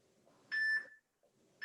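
A workout interval timer gives two sharp electronic beeps, one long tone followed after a pause by the start of another, clear and close against a quiet background.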